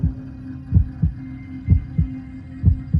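A steady, muffled heartbeat thumps in paired beats at a calm, regular pace over a low background hum.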